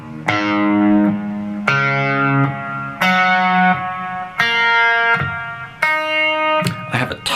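Electric guitar tuned down a half step to E flat plays five or six ringing open tuning notes one after another with a touch of delay and chorus, each note sustaining and decaying before the next, loud and close.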